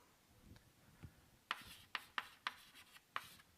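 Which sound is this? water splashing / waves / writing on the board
writing on the board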